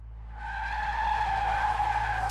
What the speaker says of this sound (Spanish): Escuché el chirrido de los neumáticos del autobús que venía en dirección contraria intentando frenar, un sonido agudo y prolongado